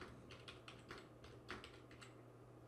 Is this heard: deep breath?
no